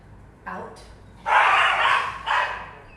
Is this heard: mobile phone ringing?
no